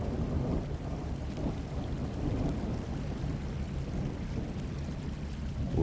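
Steady, rumbling storm din in the ship simulator game Professional Ship Simulator, heavy rain and low thunder blended into a constant roar at sea, loud and unbroken with no speech.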